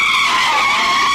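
A car's tyres screech in a loud, sustained skid just before it collides with a long bus in traffic, a steady high squeal heard alone at close range.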